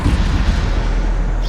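The Bombardo explosion spell in Hogwarts Legacy lands as a single heavy, booming blast that fills the short moment with a loud, deep rumble and no voices.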